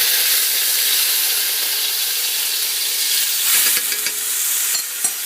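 Sofrito frying in a hot pan with oil for Dominican rice and beans, a loud continuous sizzling hiss with some crackling and utensil scrapes near the end.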